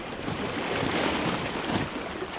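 Sea surf washing around shoreline rocks, a steady broadband roar of churning water with some wind noise, continuous and fairly close throughout.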